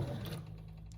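Sewing machine stitching fold-over elastic straps on a sleep cami, a steady close mechanical whir that runs alone and slightly softens partway through.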